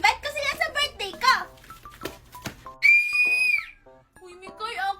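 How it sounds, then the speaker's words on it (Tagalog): A child blows a toy whistle in one bright, steady, loud blast lasting under a second, with children's chatter and excited voices before and after it. "Kanina ka pa nagpipito, ako naman."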